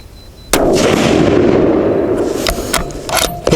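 A single loud Savage 12FV rifle shot fired with a Hornady 178g ELD-X load cracks sharply, followed by a long rolling echo and a few softer clicks and knocks.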